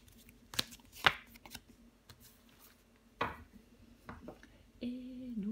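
Tarot cards are handled and laid down on a table, giving a few soft slaps and shuffling flicks spread across the moment, with faint background sound between them.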